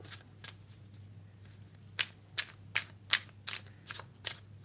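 Tarot cards shuffled by hand nearby, a series of short, sharp papery riffles and snaps, sparse at first then coming in a quicker, regular rhythm over a low steady hum, with no talking.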